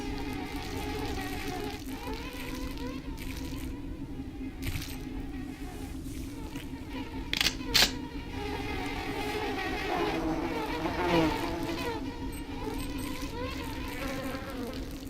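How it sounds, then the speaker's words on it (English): Insect-like wasp buzzing from System Shock 2, a steady droning hum running throughout at moderate level, with a few brief sharper game sounds breaking in midway. "Let's get away from the wasps."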